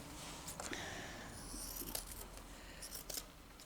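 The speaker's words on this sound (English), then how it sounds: "So now I'm going to just trim off these bits" Scissors snip through leftover fabric scraps while a slow-stitch pin cushion is being trimmed, giving a few quiet, separate cuts with short metallic clicks, close and faint over a soft room hiss.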